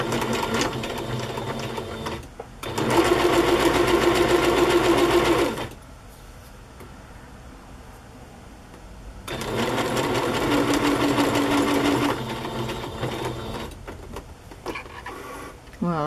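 A sewing machine stitches through a chocolate-themed handmade journal in two long, rapid mechanical runs of a few seconds each, separated by a quieter pause.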